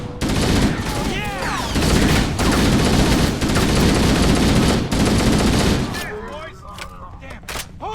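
Sustained automatic weapon fire and bursts in the first-person shooter Halo: Combat Evolved, loud and dense for about six seconds with overlapping shots and voices, then tapering into scattered shots and calls.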